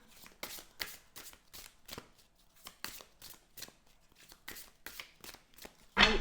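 Tarot cards shuffled by hand for a reading, a quick rhythmic series of papery riffling bursts up close, ending in a louder thump.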